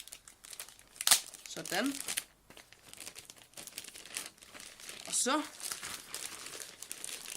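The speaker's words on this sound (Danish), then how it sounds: "Lad os lige få pakket ud af det her tape" Packing tape peeled off the box of a Lenovo Flex 14 laptop, two crinkly ripping pulls about four seconds apart, close and fairly loud, with someone talking briefly between them.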